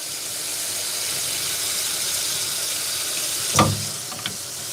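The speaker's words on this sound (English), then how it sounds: "let's get this water nice and hot again" Hot water runs from a sink tap in a steady, broad hiss with a brief splash or clatter near the end, with no talking.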